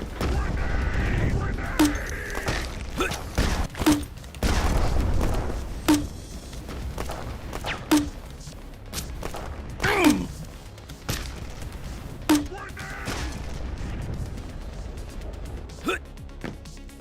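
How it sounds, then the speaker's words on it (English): Grenade launcher shots with booming explosions in an old-school boomer shooter video game, repeated blasts about every two seconds, loud and punchy under a talking voice. "Messing with a grenade launcher right now?"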